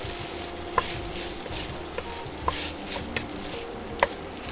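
Red bell pepper and garlic sizzle gently in a pot for a one-pot Spanish bean soup, a soft steady fry with a few light clinks and stirring taps at intervals, no voices.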